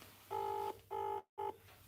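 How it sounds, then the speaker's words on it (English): Telephone ringback tone on an outgoing call, three buzzing tone bursts in steady rhythm, the last cut short, heard fairly quietly with no talking. "just while we're waiting for Mrs. Mechanic to answer the phone"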